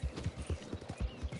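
Hooves of a Clydesdale horse clip-clop in a steady walking rhythm in the video game Red Dead Redemption 2, close and moderately loud over a soft background bed.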